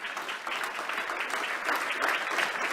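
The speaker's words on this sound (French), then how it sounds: "Quelqu'un acclame le Seigneur ce matin." A church congregation applauds the Lord during a Sunday service, a dense, steady burst of many hands clapping throughout.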